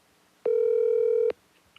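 A single electronic telephone ring tone sounds for just under a second as a call is placed: a clean, steady beep, clear and close, with quiet surroundings.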